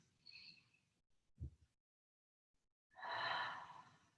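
A single relaxing open-mouth exhale during a Pilates breathing cue, a soft breathy rush after brief quiet, preceded by a faint earlier breath and a low thump, close and gentle.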